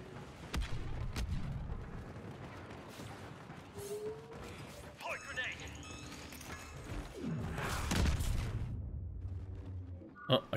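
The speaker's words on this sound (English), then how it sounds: "Oh, I killed myself with a grenade." A grenade blast in Star Wars Battlefront 2 gameplay, a sharp burst of explosive noise amid other gunfire, impacts and game effects, loud and close.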